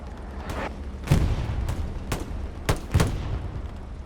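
Submachine-gun bursts from an M3 grease gun in the WWII shooter Hell Let Loose, sharp repeated pops spaced irregularly over rumbling battlefield background, mid-distance and moderately loud.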